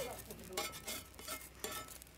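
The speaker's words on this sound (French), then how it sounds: "Je mélange de la farine avec de l'eau et du sel et je le fais cuire ensuite sur la plaque." Flour, water and salt are mixed by hand for Omani flatbread, giving repeated soft squelching and scraping strokes in an irregular rhythm, quiet and close.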